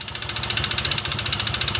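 A Honda Vario Techno 125 Fi motorbike engine runs with the CVT removed, and its rough, knocking idle pulses rapidly and evenly, close and loud, with a metallic rattle over a low throb and no voices.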